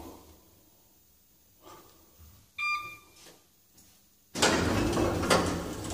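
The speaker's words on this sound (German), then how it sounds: "Das ist ein Aufzug. Da drückt man auf den Knopf. Dann geht die Tür auf." An elevator chimes with a short bright tone, then after a brief pause its door slides open with a loud, broad whoosh. Nobody speaks.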